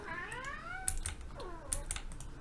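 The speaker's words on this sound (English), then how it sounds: "The cat's meowing away there." A cat meows in two drawn-out, wavering calls, faint and somewhat distant, over a steady background hiss along with scattered light clicks.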